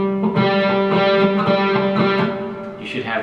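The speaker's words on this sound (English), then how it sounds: "You should have the same pitch or same note." A guitar's fretted G and open G string ring together in a steady tuning check, the two notes sustaining evenly with faint repeated pick attacks.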